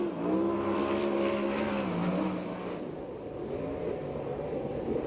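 USAC/CRA sprint race car, brand new, lapping Perris track in a race, engine note rising and falling loudly close by, then fading slightly as it passes on, with steady mechanical roar throughout.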